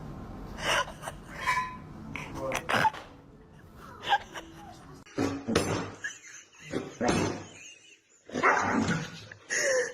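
A dog growls and barks in short, uneven bursts close by, mixed with gasping sounds and a voice speaking over it.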